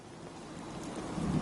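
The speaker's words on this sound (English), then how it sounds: "Just thinking how wonderful it'd be to get out of this infernal rain." Steady rain falls in the Fallout 4 video game, a continuous even hiss of moderate level with no voices over it.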